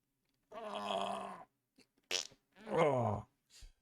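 A comedic fart sound effect plays as a long buzzy blast, followed by a few shorter sputtering pops and a final brief toot, loud and close with no talking.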